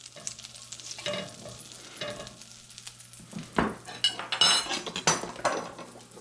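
Butter sizzles softly in a pan while a utensil stirs and scrapes, with sharper clinks of metal against the pan growing louder toward the end; no one speaks.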